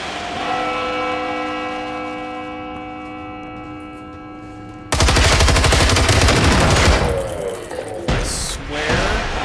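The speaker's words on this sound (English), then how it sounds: "Now the other one is shooting at me." Robots firing at the player in Generation Zero, set in 1980s Sweden. A sustained, rapid burst of loud machine-gun-like fire breaks in after a tonal, ringing stretch and continues with brief pauses.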